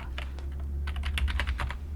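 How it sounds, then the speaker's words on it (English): Rapid keystrokes on a computer keyboard while entering code, a close, crisp run of clicks that starts sparse and speeds into a busy burst, alone with no talking. "We can do that by typing C dot"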